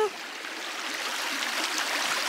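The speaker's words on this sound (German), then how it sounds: "es ist schön, dass der Bach wieder voll ist" A full, fast-flowing stream rushes steadily close by, a broad constant wash of water with no voices over it.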